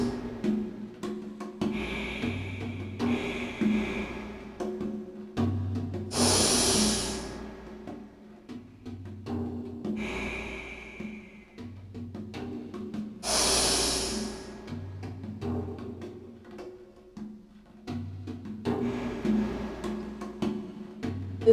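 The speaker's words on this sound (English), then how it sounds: "Close your left nostril with your little finger. Open up your thumb. Inhale through the right." Several loud nasal inhales come through one nostril during alternate-nostril yoga breathing, each a rushing, airy draw of a second or two, spaced a few seconds apart over a soft background hum.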